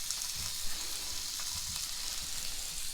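Boneless, skinless perch fillets sizzle steadily in hot oil, a dense continuous crackle and hiss at close range with faint spatters, no voices over it.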